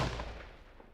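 A game-style gunshot layered with a deep 808 sub-bass hit, one loud booming blast at the start that rolls off into a long, heavy low-end decay.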